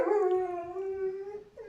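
A female dog lets out a long, sustained howl, a steady tonal wail held for well over a second, close and loud, with no one talking over it.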